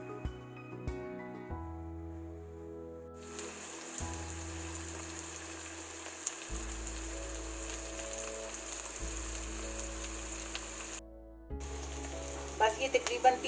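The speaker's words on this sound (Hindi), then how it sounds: "ये सब चीज़ें हम साबुत ही डाल लेंगे। अब इन्हें हमने हल्का सा फ्राई कर लेने।" Whole onions, ginger and garlic sizzling in oil in a pan for a black pepper chicken karahi, a steady crackling fry running continuously under soft background music.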